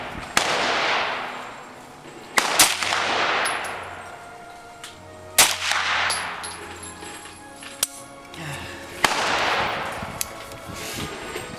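A TNW ASR rifle fires 5.56-class rounds outdoors in several loud, sharp reports spaced a few seconds apart, each trailed by a long echoing decay, with faint metallic clinks between shots.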